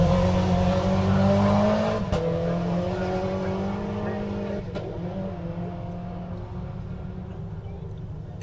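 A rally car tearing along a forest stage at the Ashley Forest Rally Sprint, engine note holding loud and close, then slowly fading as it moves off, with a couple of sharp knocks from the gravel road along the way.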